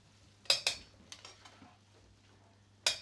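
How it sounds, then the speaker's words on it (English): A spoon scrapes and scoops cooked soft squash into a small mixing pan. Two sharp metallic clinks come up front, then several softer taps and scrapes, and one more sharp clink closes it, with a low steady hum underneath and no voices. "So the cooked soft squash is going into this little sort of mixing pan."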